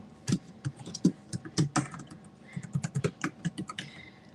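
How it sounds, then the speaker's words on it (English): Quick bursts of typing on a computer keyboard at a live sale, irregular clusters of close, crisp key clicks with short pauses between them, alone with no talking. "hopefully this keyboard's working here"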